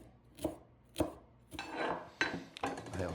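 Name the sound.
rough chopping fresh tarragon with a knife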